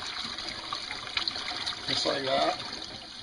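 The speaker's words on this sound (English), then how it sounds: "get this in cold water in case, get it all rinsed off right in this area" Raw raccoon meat rinsed under running cold water from a faucet at a sink, a steady trickle and splash going on under a man's brief remark.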